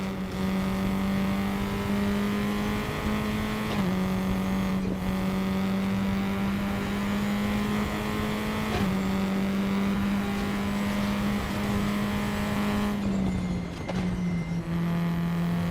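A race car engine drones steadily in a sim racing game, holding a high, even tone with a few brief pitch drops at gear shifts, loud and alone throughout.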